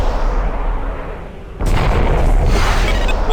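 Interceptor missiles slam into and destroy a capital ship's weapon subsystem in the Freespace space combat game, a loud explosive boom hitting midway through a steady engine rumble and lingering as a rough, sustained blast.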